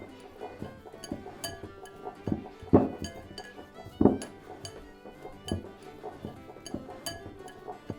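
Cracker dough for an 18th-century recipe is mixed in a bowl, with irregular knocks, clinks and scraping taps, a few sharper bumps standing out, close and fairly quiet.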